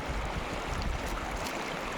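Water in a jungle river flowing steadily in a dense forest, a constant broadband rush with no pauses, close and fairly loud.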